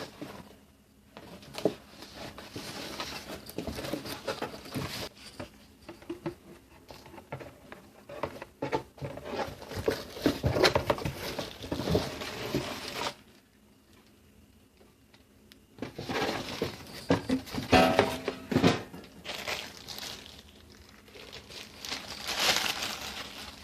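Plastic and cardboard packaging from a Zipp 12-inch 300W super bass subwoofer crinkles, tears and rustles in bursts of handling, close by, with a brief quiet pause midway before the unwrapping resumes.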